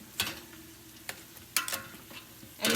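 Bannock frying in a pan set to 400 while it is flipped, with a few scattered scraping clatters and soft sizzle-like bursts at low volume and no talking.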